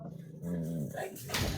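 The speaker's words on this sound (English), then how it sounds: "Look at the puppy." Puppy growling and giving a short yip, close but fairly quiet, one brief burst lasting about a second and a half, with no talking.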